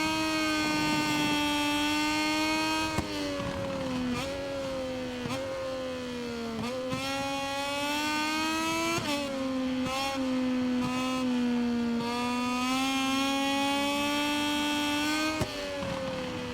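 A Moto2 racing motorcycle engine in MotoGP 22 at the Qatar circuit, held flat out and screaming at high revs. Its steady rising howl breaks into several quick gear-change dips, loud and continuous with no voices.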